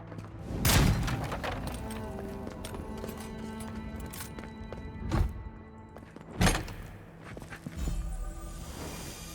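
Magic missile gun fired in the video game Avowed: three sharp, loud bursts land about a second apart early on, then later, over a continuous bed of game ambience and music-like tones.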